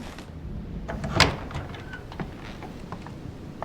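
A door to a bedroom in the period game The Council swings open with one loud creak and thud, followed by faint lighter movements against a quiet room tone.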